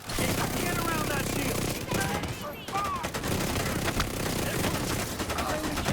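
Rapid video game gunfire fills the clip, dense and continuous with a sustained roar, while a voice speaks over the shooting in places.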